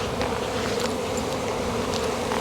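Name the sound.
buzzing bees swarming in an apiary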